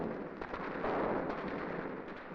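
Sustained burst of gunfire in a room-clearing drill from a wartime training film with a Bren group, dense crackling shots blending into a continuous loud rattle with no pauses, heard close with no voices.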